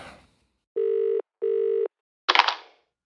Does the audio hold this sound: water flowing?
no